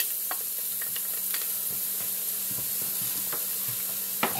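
Chopped garlic sizzling in a pan with browned onions for curry chicken, a steady close hiss of frying broken by scattered crackles and the scrape of stirring.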